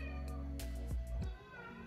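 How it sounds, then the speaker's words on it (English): A pet cat at home gives two short rising meows against a quiet indoor background with faint clicks, no one speaking. "That is one of my cats."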